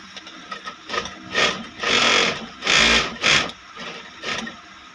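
A Kansai Special sewing machine, just reassembled after timing adjustment, runs in several short bursts of rapid whirring stitching separated by brief pauses, close and fairly loud.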